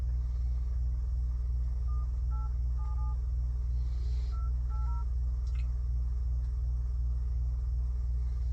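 A phone number is keyed in to call the insurer Progressive, with short DTMF tones in two quick bursts of several beeps each over a loud, steady low rumble like a car interior, with no voices.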